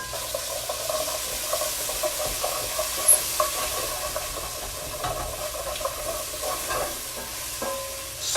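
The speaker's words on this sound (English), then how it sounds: "I'm going to add a little more fat in there. To kind of cook this stuff." Tomato paste is stirred and fried in fat in a pan for a short rib sauce, giving a steady close sizzle with spoon scrapes and soft clicks, no voices.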